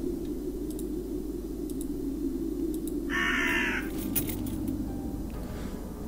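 A raven in the point-and-click game Raincliff gives a single harsh caw over a steady low ambient hum, with faint clicks scattered around it and no speech.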